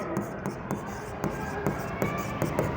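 Pen writing on paper while working out partnership final accounts, a steady series of brisk scratching strokes and taps at a regular pace, close and fairly clear under a quiet room.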